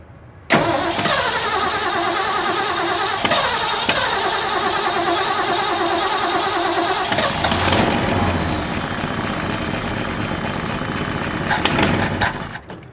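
A 1966 Ford Mustang with a stuck carburetor float bowl cranks and catches, then runs roughly in a loud steady roar that wavers and stumbles toward the end.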